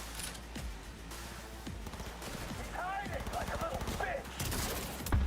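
Gunfire in the video game Cyberpunk 2077 crackles in rapid bursts and scattered single shots, mixed with game effects and someone talking over the action, fairly busy and mid-level throughout.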